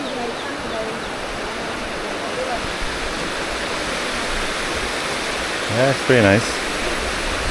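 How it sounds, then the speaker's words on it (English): The continuous roar of Pearl Shoal waterfall in Jiuzhaigou National Park runs throughout, a dense, even wash of falling water, with a short spoken remark near the end. "Okay, Pearl Show Waterfall"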